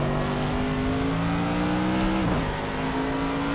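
A GT3 race car in a racing video game at Le Mans accelerates with a loud, steady engine drone whose pitch rises continuously. A brief dip and shift near the end mark a gear change, then the engine keeps pulling strongly.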